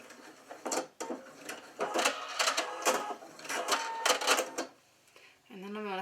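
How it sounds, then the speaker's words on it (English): A sewing machine stitches fabric pieces for a handmade teddy bear, running in several bursts of rapid mechanical whirring with brief pauses between them. "I'm going to start sewing and then do a little back stitch"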